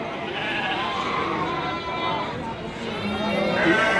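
Sheep bleating at Bumiayu's Pasar Wage livestock market, overlapping bleats amid a busy crowd, with people talking loudly nearby throughout.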